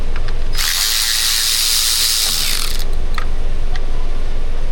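Ratchet wrench spinning out Torx T30 fasteners on a car engine, a dense close clicking burst lasting about two seconds, followed by a few faint ticks and workshop handling noises.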